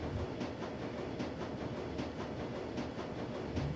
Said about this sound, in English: The rattle of a wheel on track gives way to a shimmying screech. Gradually, the train begins to slow.